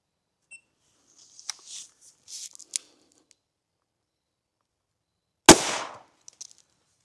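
A single sharp, loud report from a Hornady Sub X 300 Blackout subsonic round fired into ballistic gel, with a brief decaying tail and a few faint clicks and handling noises before and after.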